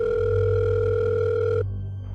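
A telephone rings steadily and loudly on a phone line as a father calls Eldorado High School in Las Vegas, one continuous electronic tone that cuts off abruptly near the end, with no voices.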